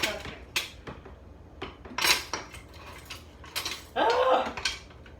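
Unwashed dishes and cutlery handled in a kitchen: a string of sharp metallic clinks and clatters in irregular bursts, close and fairly loud, with a longer rattling scrape near the end.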